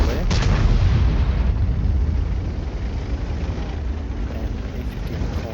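Tank guns fire in a tank battle video game: a sharp heavy blast near the start, then a dense, sustained rumble of distant booms and engine noise rolling on for several seconds.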